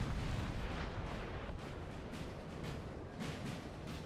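Artillery fires in a Napoleonic Total War 3 battle, dense rolling booms of cannon blending into a continuous loud roar with sharper individual shots punctuating it.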